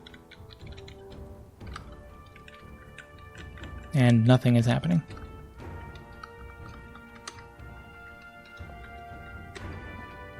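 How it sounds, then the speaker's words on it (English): Buttons pressed on a computer keyboard, scattered close clicks and taps at an irregular pace, with someone speaking briefly partway through. "I'm continuing to press buttons on the keyboard."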